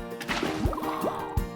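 Water being placed in the Minecraft video game: short liquid splashes and gurgling pours, with two brief low splats about a second apart, moderately loud against a quiet background.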